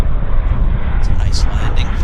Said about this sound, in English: It's a nice landing.